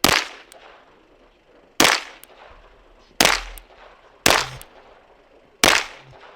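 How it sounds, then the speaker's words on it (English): Five sharp, loud shots from a Steyr GB pistol, fired singly about a second or more apart, each with a short ringing outdoor echo. "Steyr GB, one of the ugliest guns I've ever shot"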